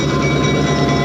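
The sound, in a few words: Santa Fe Southern Railroad excursion train arriving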